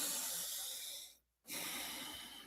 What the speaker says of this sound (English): deep breaths in and out of the nose